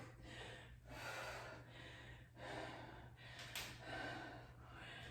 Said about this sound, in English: And I'm breathing hard.